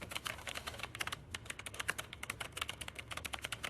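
Rapid computer keyboard typing clatters in a dense, continuous stream of crisp keystrokes, close and steady, with a brief pause near the middle; the typing is AI-generated.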